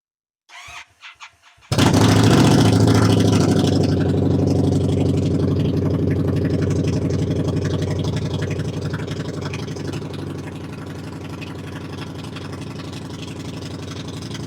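A bobber motorcycle with a newly finished exhaust cranks briefly, then fires and roars into a loud, steady idle indoors, its throbbing rumble easing slightly as it keeps running.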